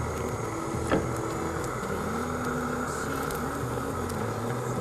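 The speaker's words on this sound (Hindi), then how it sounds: "तो जो आवाज़ आ रही थी वो गैस के जलने की आवाज़ थी।" A gas stove burner flame roars steadily under a pan, a continuous broadband hiss with low rumbling texture holding even throughout, with one brief sharper tick near the start.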